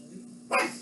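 A dog barks once, sharp and fairly close, in the middle of a room with a steady low hum underneath.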